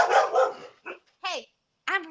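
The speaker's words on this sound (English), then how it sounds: "Sounds like your dog's pissed off about it too." A dog gives two sharp barks about half a second apart, close and loud, following a stretch of a person's voice at the start.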